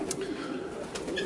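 Pigeons cooing on a small farm in winter, soft repeated coos and a few short calls close by over steady background noise, with no one talking.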